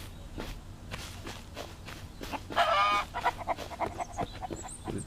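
Chickens cluck in the survival video game Mist Survival, a short burst of fowl calls near the middle over steady footsteps and low background hum.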